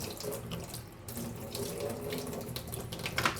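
Water runs steadily from a kitchen tap into the sink, a close, continuous splashing stream with slight shifts in flow and no one talking.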